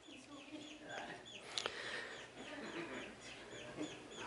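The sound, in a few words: small bird calling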